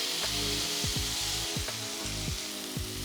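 Burger patties sizzle on a charcoal-heated flat top as two metal spatulas press them flat, giving repeated short scraping thuds roughly every half second over a steady, close hiss.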